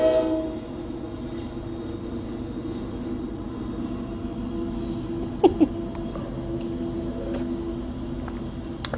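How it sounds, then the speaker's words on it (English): A train passes by outside, heard as a faint, steady rumble with a low droning tone throughout, broken by a couple of brief sharp clanks. "So another train has gone by."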